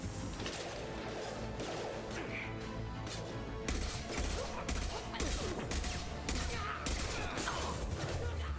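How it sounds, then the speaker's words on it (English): Burst-fire weapons crack repeatedly in a Mass Effect 2 Legendary Edition firefight against Eclipse mercs on Insanity difficulty, a dense, continuous barrage of loud overlapping shots and impacts with no gaps. "I hate burst fire guns"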